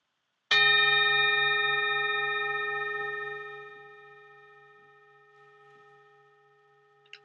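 A single gong chime struck in a guided chakra meditation session, ringing out loud and sustained with steady harmonic overtones that slowly decay over several seconds, with a faint tap near the end.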